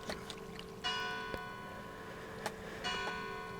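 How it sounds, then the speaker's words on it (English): Bell ringing faintly in a Minecraft world, a few distant metallic strikes with lingering tonal rings spaced across a few seconds over quiet background clicks. "And there's this stupid bell again."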